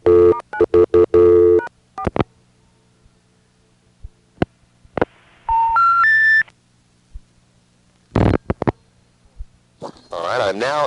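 Telephone signaling on a 1A ESS Centrex line: clusters of short beeping tones, a rising run of dialing tones, and a few sharp clicks and bursts, loud and close on the line.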